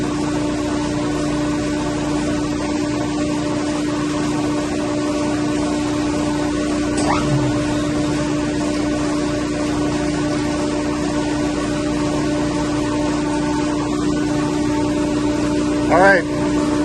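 A chiller pump motor, which had blown before, runs with a steady, even electrical hum and whine that holds unbroken for the whole stretch, with a brief clunk near the end.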